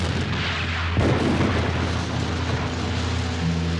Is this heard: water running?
no